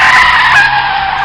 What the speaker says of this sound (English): suddenly he is forced to slam on his brakes